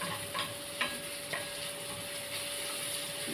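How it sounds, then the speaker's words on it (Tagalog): Tomato sautéing for ginisang sayote, a Filipino chayote dish: a steady, soft sizzle from the pan with a few light stirring scrapes and clinks, close and fairly quiet, with no talking. "Kailangan lutuin natin yung ating tomato. Pag sote-sote natin."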